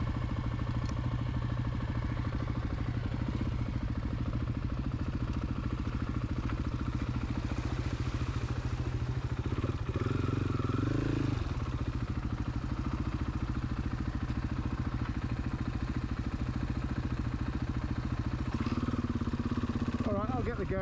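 A trail motorcycle engine runs steadily and loudly at close range for the whole stretch, with a constant low throb and brief revs partway through. Voices are audible over the engine.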